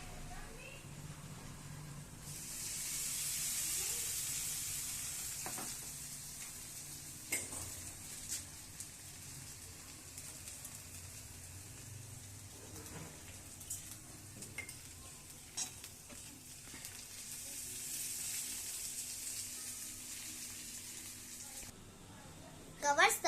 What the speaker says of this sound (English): After 1 to 2 minutes, the wet poha, a little salt and sugar and stirs well.